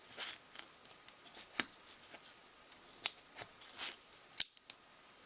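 Scissors snipping petals from a plastic bottle, a series of short crisp cuts at an irregular pace, close and quiet against a near-silent background.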